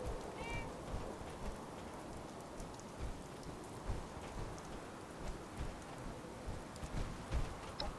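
A rainstorm in a video game named The Storm, heard as steady, fairly faint patter of rain hitting surfaces with small irregular bursts, continuous throughout with no talking.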